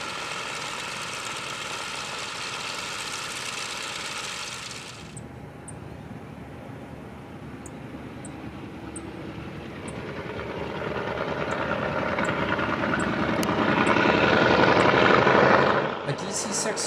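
Piston engines of a 1957 Douglas DC-6 bulk fuel tanker in Alaska run up before takeoff, a steady droning roar that dips briefly, then builds louder toward the end before easing off.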